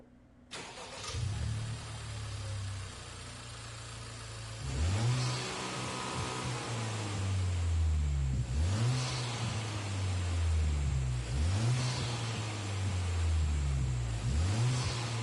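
A racing car in a PS4 driving game with an H-pattern clutch and 6-speed gearbox starts up, then revs repeatedly in rising and falling sweeps as it shifts through gears, loud and continuous with no talk.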